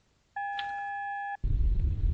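A steady electronic answering-machine tone sounds for about a second, a clean sustained beep with harmonics, followed by a burst of low rumbling noise.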